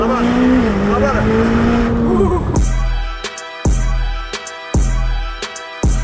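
McLaren supercar engine wound up at full throttle, loud and close, a rising engine tone giving way to sharp repeated gear-shift bursts and roaring pulls, with someone shouting excitedly over the first part.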